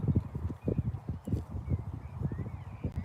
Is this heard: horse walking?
yes